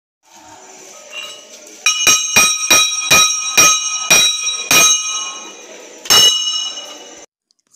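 A metal bell at a pesantren Islamic boarding school is struck about eight times in a loud, ringing sequence of clangs, spaced unevenly, with a steady hum underneath and no talking.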